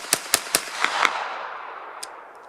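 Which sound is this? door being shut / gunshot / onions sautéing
gunshot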